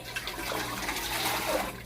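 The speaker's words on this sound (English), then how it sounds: "Use hot water. Fill this thing up." Hot water pours steadily into a pot from a tap, a continuous splashing rush that lasts the whole moment without a break.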